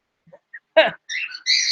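A pet bird lets out a few faint chirps, then a sharp harsh squawk and two bright whistling calls, close by with brief gaps of silence, no talk.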